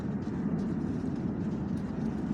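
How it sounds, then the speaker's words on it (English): A large freight train rumbles across an old, dilapidated bridge, a steady heavy low roar with faint metallic squeals above, continuous and close. "They run large freight trains both ways, 2 Maxes on top."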